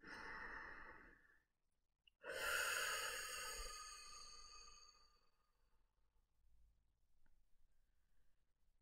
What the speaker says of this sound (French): vous prenez une grande inspiration en gonflant le ventre et la poitrine et vous soufflez en les laissant redescendre